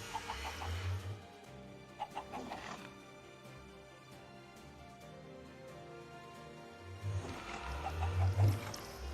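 Chickens clucking in Minecraft, a cluster of short clucks early on and another louder burst near the end, over a steady background of game music.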